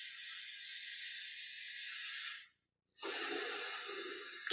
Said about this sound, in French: On respire profondément